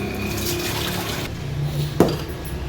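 Water pours from a heavy cooking pot during biryani preparation in a home kitchen, a steady running splash through most of the stretch, ending in a brief sharp slosh near the end.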